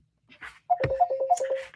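A phone rings with a rapid series of pulsed electronic tones, close and fairly loud, after a few brief soft sounds.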